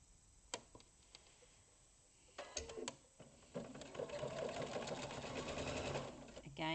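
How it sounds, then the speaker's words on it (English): A sewing machine runs a straight quarter-inch seam down pre-cut cushion fabric, starting with a few short bursts and settling into a steady, fairly close whirring stitch, with a voice speaking in places. "just stitch it straight down"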